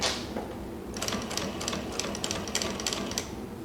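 A walking-foot sewing machine, either a Sailrite or a Juki industrial, sews light canvas with a run of evenly spaced, close, sharp thumps over a mechanical hum.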